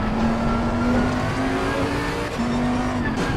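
A race car in Assetto Corsa Competizione rolls into the pits at the Hungaroring, its engine holding a loud, steady, buzzing drone with a faintly wavering pitch and some tyre and road noise beneath it.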